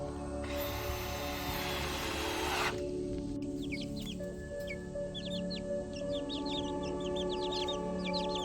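Baby chicks in a brooder during their first week, giving repeated short high peeps and clucks near and clear, after a burst of broad noise at the start, with a steady low hum underneath.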